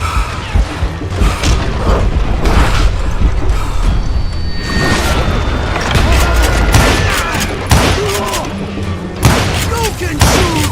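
Gunfire rings out in the Western shooter Call of Juarez Gunslinger, with loud repeated shots, booms and clattering mechanical sounds over a noisy, dense game soundscape.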